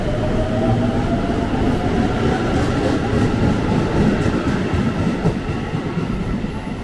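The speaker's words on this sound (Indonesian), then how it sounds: "Kita udah sampai stasiun Bekasi Timur bersama JRIS 205 series komuteran tujuan stasiun Cikarang" A JR 205 series KRL commuter train rumbles steadily through Bekasi Timur station toward Cikarang, with dense, loud wheel and rail noise and a continuous mechanical roar that holds for the whole stretch.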